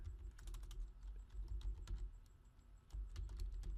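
Typing on a computer keyboard, a quick irregular run of close, crisp key clicks with a short pause before the taps resume, no talking.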